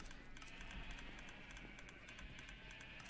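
Constant rapid clicking of Minecraft dispensers, a quick irregular patter of small ticks repeating without pause at a faint, steady level.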